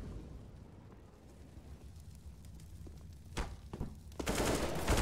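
Gunfire in a Counter-Strike match, with a few sharp shots in the middle and a louder sustained burst near the end, set over a low background game bed.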